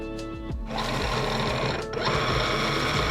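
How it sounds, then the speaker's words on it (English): A Momento electronic cutting machine drawing its cutting mat in, with a close, steady motorized whirring and humming that shifts pitch and briefly dips before resuming a bit louder. "And the machine will load the mat and stop"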